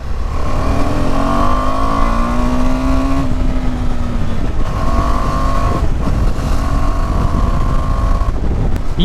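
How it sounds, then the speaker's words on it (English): A KTM 390 Adventure motorcycle on a test ride, its engine droning steadily and loud throughout with rising and falling revs, heavy wind rush over the microphone, no talk. "My god, so comfortable to ride this bike, man."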